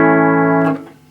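Bridge pickup of an Epiphone Les Paul Gold Top driving a Vox AC4TV amp: one bright sustained chord holds steady, then decays quickly as a short burst of fret noise fades out.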